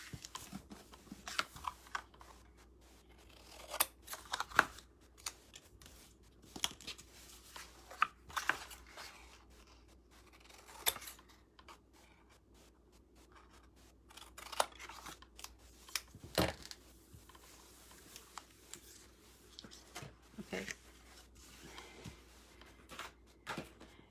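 Scissors snip through paper for a 4x6 mini album base, with scattered short cuts and rustling of the sheet, close and fairly quiet.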